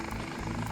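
A medical helicopter sets down in a city centre park beside a children's hospital, its rotor and engine a loud, steady rumbling drone close by.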